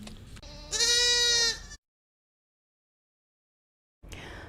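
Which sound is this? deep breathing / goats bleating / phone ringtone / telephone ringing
goats bleating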